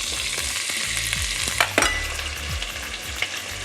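Asparagus sizzles and fries in butter in a pan, with a steady crackling hiss and a few sharper pops and stirring scrapes throughout.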